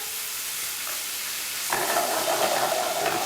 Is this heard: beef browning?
yes